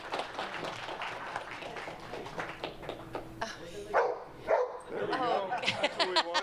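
A dog named Reuger barks in a crowded public meeting room, a few sharp yips and barks ringing out near the end amid scattered clapping and people talking.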